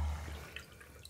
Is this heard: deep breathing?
no